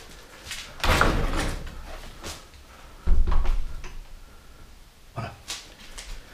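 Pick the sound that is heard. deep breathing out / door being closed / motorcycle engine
door being closed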